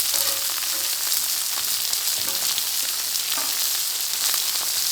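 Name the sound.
butter sizzling in bacon grease in a pan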